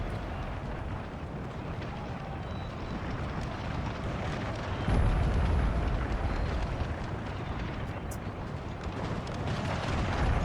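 Massed artillery fire across a grand battlefield in Napoleon Total War, a continuous heavy rumble of distant cannon with a stronger boom about halfway through, the roar steady throughout.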